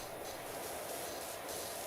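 A pressure washer nozzle in the video game PowerWash Simulator sprays in a constant loud hiss that stays even and unbroken, with slight pulses in its texture.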